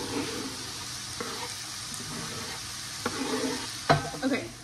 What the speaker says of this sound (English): so now we're adding the onions to the oil mixture